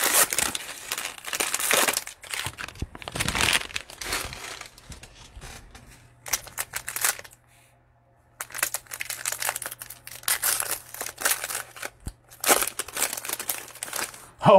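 Crinkling and tearing of a Prizm Cello basketball card pack wrapper being snipped open, in several bursts of plastic rustle with a short quiet gap midway, close and fairly loud.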